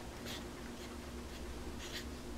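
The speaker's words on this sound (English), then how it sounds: "see if I can write Funcil 15 on the bottom of this paper" A Funcils paint pen writing small lettering on paper, using only the very tip: soft, scratchy strokes come in short bursts with brief pauses between them against a quiet background.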